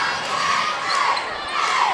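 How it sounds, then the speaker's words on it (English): A high school basketball crowd in the Livingston Academy gym against Pickett County, a continuous roar of cheering and shouting that swells in waves, with no talk over it. "You hear the crowd."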